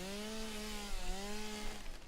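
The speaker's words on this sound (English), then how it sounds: "Chainsaw." Chainsaw running steadily at a constant idle-to-mid pitch, a harmonic engine drone that dips briefly and resumes, fairly close and continuous.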